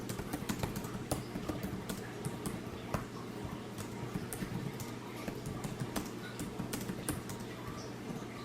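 Steady typing on a computer keyboard during a writing session, with rapid continuous key clicks and occasional sharper taps over a low background hum, no talking.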